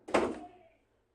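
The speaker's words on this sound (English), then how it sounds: "Jenny, I said to close the door." A single soft door closing thunk, brief and fairly faint in a quiet room, then fading out.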